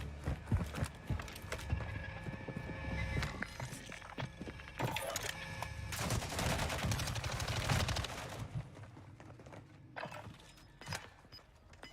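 Gunfire and a grenade launcher crackle through a Warzone 2.0 match in a dense run of sharp, rapid shots and bursts. The shots are at moderate loudness and fade out near the end. No one speaks.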